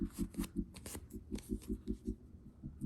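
Leather being cut for a tabard: a quick, regular run of crisp snipping strokes, close and fairly quiet, with short pauses between runs.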